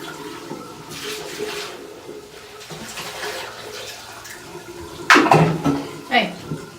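Water is emptied out of a plastic tub in short splashing pours and gurgles near the end, following quieter handling sounds, with some talking.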